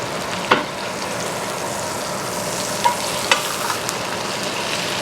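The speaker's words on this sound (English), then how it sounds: "I like to tip it up on its edge, kind of let it submerge in the butter a little bit." Meat sizzles loudly and continuously in butter in a cast iron pan, a dense close hiss with a few sharp pops and spatters breaking through.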